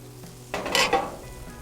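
Asparagus sizzles on an outdoor grill, a short burst of frying hiss that swells and fades as the spears are laid down or moved, close and moderately loud.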